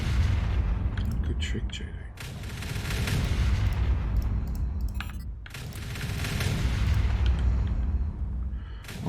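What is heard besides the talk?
artillery shells firing in the video game Factorio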